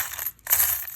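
Coins dropping in a couple of quick bursts of bright metallic clinks and jingles, close by, separated by a brief silent gap, with no talking.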